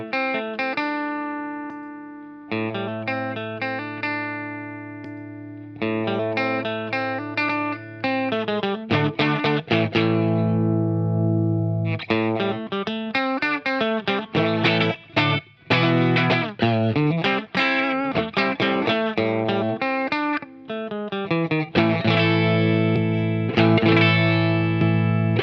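An electric guitar runs through a Kokko compressor pedal, close and loud, with long sustained chords, bending melodic lines and sharp picked attacks that hold level before a final strummed flourish, no voices.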